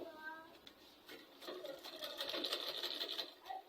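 A sewing machine stitches a bag made of Ankara fabric, its motor whirring in short bursts at close range, fairly quiet with a faint background murmur.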